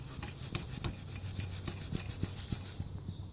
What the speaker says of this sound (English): I'll just scrape down right here, just like you can see it right there.